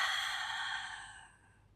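A single long, airy exhale during a Pilates mat exercise, close to the microphone, fading gradually over nearly two seconds with no talking.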